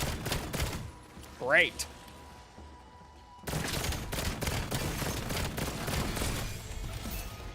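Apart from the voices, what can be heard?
gray pistol gunfire in video game Call of Duty: Black Ops 7 Zombies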